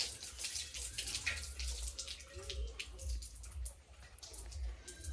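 Water running steadily in a bathroom while someone bathes, a soft continuous splashing flow with occasional drips and thuds, heard from a short distance through the room.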